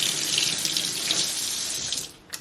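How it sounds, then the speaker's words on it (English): Warm water runs steadily from a tap over hands into a sink, a continuous close hiss that fades out near the end. "You just run your hands under warm water."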